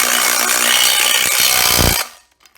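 A TID18 18V cordless impact driver drives a screw with a loud, close, rapid hammering rattle for about two seconds. It stops abruptly, followed by a couple of faint clicks.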